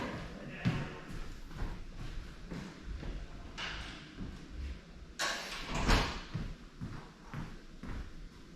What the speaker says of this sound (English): Does anyone mind if I close the door?